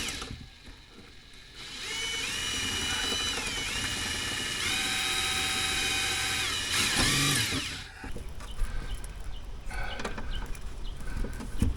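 A power driver drives thick screws into the bumper of a camper van under repair, with a sustained whirring motor lasting several seconds, a brief change in pitch near the end, then lighter clicks and handling noises outdoors.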